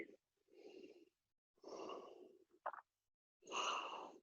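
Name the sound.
yoga instructor breathing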